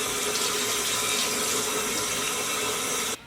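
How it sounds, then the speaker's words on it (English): Tap water runs steadily at a bathroom sink during a nighttime face rinse, a continuous close hiss that cuts off abruptly at the end. "So I'm going to rinse my face right now"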